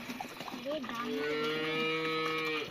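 A village cow gives a long, drawn-out moo, close and clear, its pitch rising and then holding steady, while faint voices and handling noise sit in the background.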